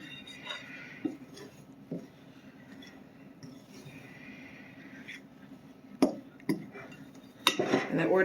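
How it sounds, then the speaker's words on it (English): Pie crust ingredients being stirred in a bowl for a family recipe, with scattered scraping clinks of a utensil against the bowl, a few sharper knocks and a louder clatter at the end, recorded close by. "Want to make sure that we are mixing to the bottom"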